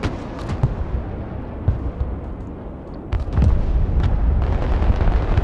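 Enemy artillery fire in the Broken Arrow video game, a string of dull booms and thuds over a constant rumbling battlefield bed, growing louder and denser in the latter half.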